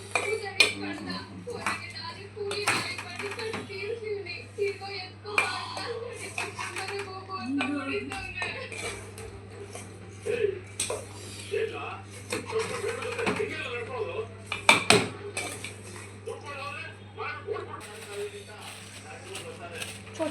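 A spoon clinks and scrapes against a bowl while churmuri ingredients are mixed. The light, irregular clatter continues throughout, under a person talking and a steady low hum.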